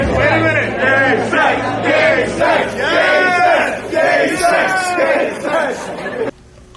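A loud crowd at a political gathering chants in unison, repeated rhythmic bursts of many voices with busy chatter underneath, cutting off abruptly at the end.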